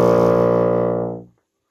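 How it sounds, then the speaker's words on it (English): A bassoon sounds its lowest note, a low B flat, as one sustained, rich, buzzy tone. It plays alone and fades out smoothly after a little over a second. "when I close all of the holes on the bassoon, I play my lowest note, a low B flat"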